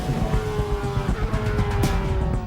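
A Formula One car at speed on the Monaco 2006 Grand Prix track, engine droning at a high steady pitch with quick gearshift breaks and a brief sharp rush near the end, loud and close.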